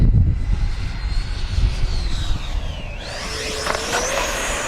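An E-flite F-16 70mm electric ducted-fan RC jet flying high-alpha passes, a whining fan note that drops in pitch as it passes, then rises sharply as power comes back in, over steady outdoor rumble.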